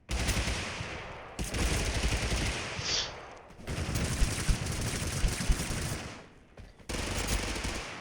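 Rapid automatic gunfire bursts in Totally Accurate Battlegrounds, loud and close, coming in several sustained volleys separated by short pauses.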